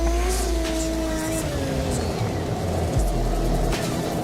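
A drift car with a 20B rotary engine revs on track at a drifting championship round, a loud continuous engine drone with pitch shifts and a brief dip, harsh and close throughout.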